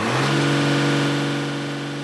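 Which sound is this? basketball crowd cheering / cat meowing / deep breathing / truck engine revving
truck engine revving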